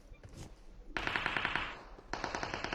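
Rapid automatic gunfire in a shooting video game, with bots firing at the player: a short burst, a brief pause, then a second sustained volley of sharp, evenly spaced shots close by.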